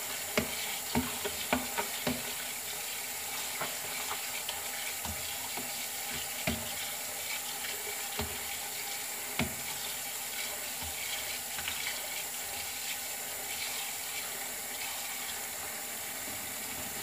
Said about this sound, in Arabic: نغسلها منيح بالمي الباردة